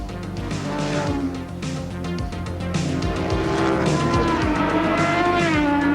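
Racing motorcycles at the 1987 Wanganui Cemetery Circuit street race, including a production bike, roar loudly and continuously close by, their engine notes rising and falling as they rev through the corners.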